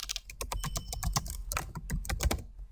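Steady fast typing on a computer keyboard while writing HTML code for web design, with close, crisp key clicks coming in quick irregular bursts and no talking.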